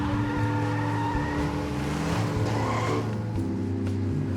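A Lamborghini sports car drives with its engine roaring steadily and tires skidding and squealing, a continuous loud mechanical drone alone without any talk.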